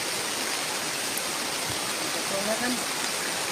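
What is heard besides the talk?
rain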